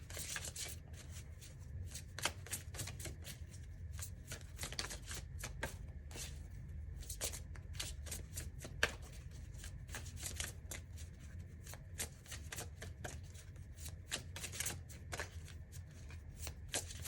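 A deck of goddess oracle cards is shuffled over and over in a quiet room, making soft, rapid riffling and flicking bursts in an uneven rhythm.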